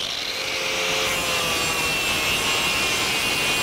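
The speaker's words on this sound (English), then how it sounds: "I'm going to grind some spots on the bottom for the welds" Steady, continuous abrasive grinding on a metal bicycle frame, taking spots off the underside before welding; a loud, close, unbroken rasping whine that holds for the whole stretch without pause or voices.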